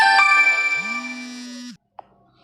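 A phone rings with a steady electronic tone, loud and close, then cuts off abruptly, followed by a short click and near silence.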